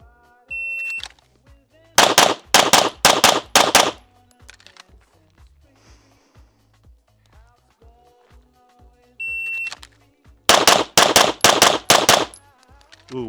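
Pistol fire at a USPSA practice on an outdoor shooting range: two rapid strings of about six sharp, loud shots each, each preceded by a shot-timer beep, with quiet pauses and faint movement between.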